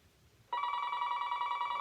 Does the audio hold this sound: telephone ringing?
yes